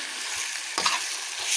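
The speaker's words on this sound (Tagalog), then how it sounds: "gisa mo lang yung chicken" Chicken sautéing in a pan with a steady, close sizzle and a brief stirring clatter partway through, with no voices.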